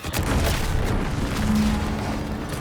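A loud explosion in the video game The Outer Worlds 2, a dense booming rumble that holds steady with no break for a few seconds and fades only slightly at the end.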